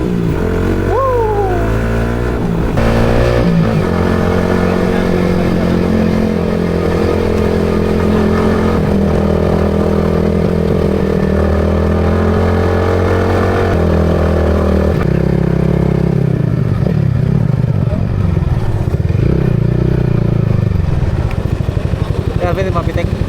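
A Yamaha XSR155 Scrambler motorcycle engine idles and revs steadily at close range, its pitch rising and falling over sustained running, with people talking over the engine throughout.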